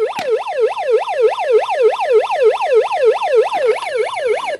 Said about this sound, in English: And of course you have the siren.